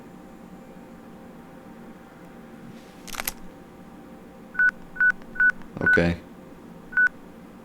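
Phone keypad tones from the video game Crisis Core: Final Fantasy VII, about five short evenly spaced beeps following a brief click, with one quick spoken word beforehand over a low game background hum.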